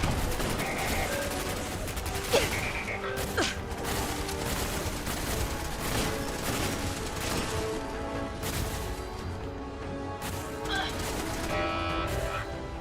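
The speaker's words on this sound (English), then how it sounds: "That turret's a menace." Automated turret in Fallout 4 firing rapid bursts of gunfire, dense rattling volleys with sharp impacts and clatter, loud and near, continuing almost without pause.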